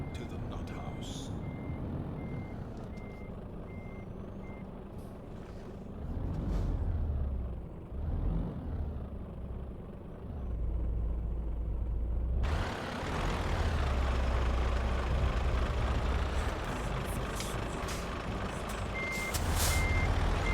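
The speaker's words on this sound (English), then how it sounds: "Takes a bit of getting used to these reversing trailers, these steering trailers." Truck reversing in a trucking video game, steady reversing beeps sounding at the start and end over the low rumble of the engine, which swells midway with air brake hiss, a voice talking underneath.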